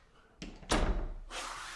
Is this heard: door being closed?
yes